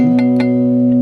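A single guitar chord with a muted G string rings out steadily, with light percussive string clicks near the start, sounding slightly dampened.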